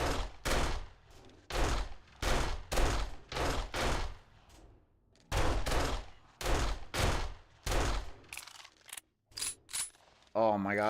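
Video game gunfire in a mall setting, with repeated bursts of rapid automatic shots in clusters separated by short pauses, loud and close, ending in a few isolated shots and a mechanical whir.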